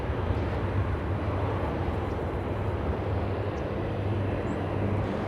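A South Korean airline jet on final approach to landing at LAX, a loud, steady broadband engine roar holding constant throughout with no voices.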